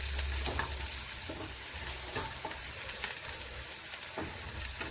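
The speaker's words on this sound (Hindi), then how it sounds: "तो प्याज को हम लगातार चलाते हुए लाइट ब्राउन कर लेंगे" Onions fry in a pan, a steady close sizzle running throughout while a utensil stirs them, adding occasional scraping knocks against the pan, with no one speaking.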